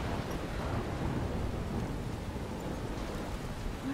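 Steady heavy rain and rumbling thunder in the video game Life Is Strange form a continuous, dense wash of storm noise with no talking over it.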